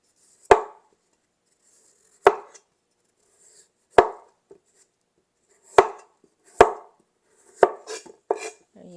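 A knife cuts through vegetables on a cutting board in a home kitchen while cooking a Vietnamese meal, with six or seven crisp separate chops spaced about two seconds apart, growing quicker toward the end, close and clear with no talking.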